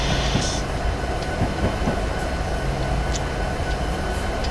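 A train running in Train Sim 2018 on the Sherman Hill route, a continuous heavy rumble with rolling wheel noise and faint clicks, steady and fairly loud, no talking.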